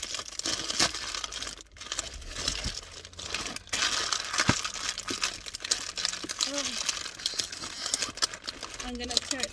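Plastic bag wrapping a popcorn tin being crinkled and torn open nearby, a steady run of loud crackling and ripping with brief pauses, a voice speaking faintly underneath.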